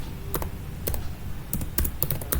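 Typing on a computer keyboard, a handful of crisp, closely spaced key taps in small clusters, near and clear over a quiet room hum.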